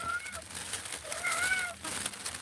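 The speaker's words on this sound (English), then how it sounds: "And that's my kitty cat, Cleo." Pet cat Cleo meowing nearby, two short plaintive meows, the second longer and wavering, over faint background rustle with no talking.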